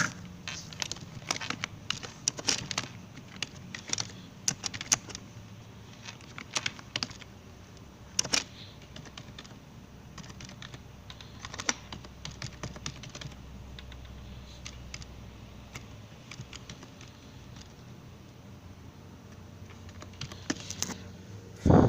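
Fingers tap on a computer keyboard in quick irregular bursts, with close, light clicks and short pauses, while a form for a Punjab e-stamp paper is filled in online.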